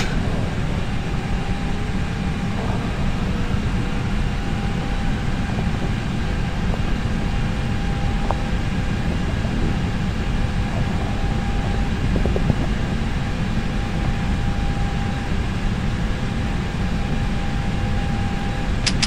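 Steady broadband engine roar of an Airbus A320 during takeoff in Flight Simulator X, a constant loud rushing hum with faint tonal whine and occasional small clicks, no talking.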